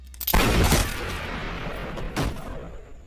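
Gunfire in a film scene from No One Lives as a man shoots a police officer at a motel: a sharp crack followed by a long, dense, reverberant wash, then a second burst near the end, loud and with no talk.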